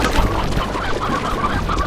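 Chickens clucking in the Slime Rancher video game on Xbox One, a steady busy bed of overlapping game-animal clucks and bird chatter with no talk over it.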